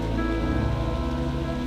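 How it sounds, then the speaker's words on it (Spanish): Steady rain falls on a city, a dense, even hiss of drops that carries on without a break under a sustained low tonal drone. "estamos en este lugar mientras llueve sobre esta ciudad"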